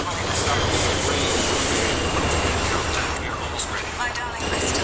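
Train running in a video game, a steady loud rumble of rolling wheels and rail noise with faint squeal and clatter, continuous throughout, with a voice talking over it.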